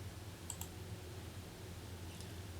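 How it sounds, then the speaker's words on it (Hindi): A couple of soft mouse clicks land on the Finish button in spreadsheet software, a quick double click early on and one fainter click near the end, over a steady low computer hum. "फिनिश पे क्लिक करेंगे"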